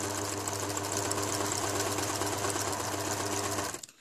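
A sewing machine runs steadily for nearly four seconds, stitching quilt fabric for a baby quilt with the presser foot set beside the centre line. The hum is close and even, and it stops abruptly at the end.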